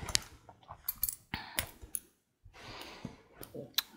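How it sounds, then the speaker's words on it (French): Scissors snip through knitting yarn up close in a quiet room, a few crisp, sharp clicks and snips scattered among faint handling rustles, with short pauses and no talk. "Je coupe le fil."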